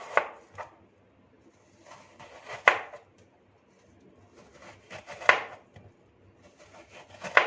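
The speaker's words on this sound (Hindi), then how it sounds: "सेब के इस हिस्से को कटिंग कर लेंगे।" A knife chops through an apple into pieces on a cutting board, with several sharp, close impacts spaced apart at an irregular rhythm and quiet gaps between them.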